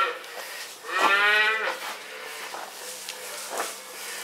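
One cow on a dairy farm gives a clear, fairly close moo that rises and falls, with fainter lowing from other cattle and quiet barn noise around it.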